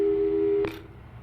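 A telephone tone from the Portal 2 video game, a steady busy-signal style hum holding for over half a second before cutting off abruptly, followed by a short burst of noise and quiet.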